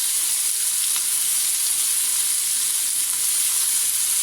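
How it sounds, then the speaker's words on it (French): Chicken pieces browning in a frying pan, a loud, steady, bright sizzle that holds evenly throughout with no talking. "On étale le poulet pour qu'il dore comme il faut"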